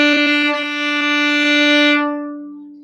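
A violin's open D string bowed as one steady sustained note, bright and rich in overtones, held for about two seconds before being released and fading quickly.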